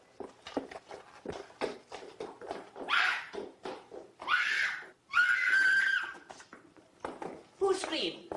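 A woman lets out several shrill screams in an old horror film, The Ghoul, each cry rising over music and dialogue, with the sharpest and longest coming near the middle.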